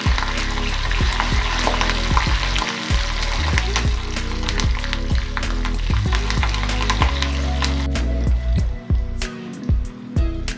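Loud sizzling and crackling of tempering spices and curry leaves frying in hot oil, with frequent sharp pops and spatters close by.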